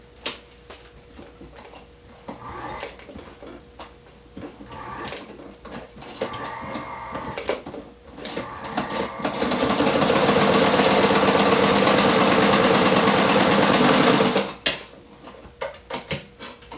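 A domestic sewing machine stitching leather with thin thread starts with slow, irregular ticking and clicks, then builds to a loud, steady mechanical whir for several seconds before stopping abruptly.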